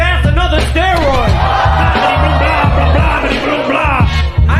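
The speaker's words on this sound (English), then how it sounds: "This guy keeps screaming." A man yells and whoops repeatedly in loud, rhythmic bursts, crowd-like shouting layered over a pounding beat, with voices throughout.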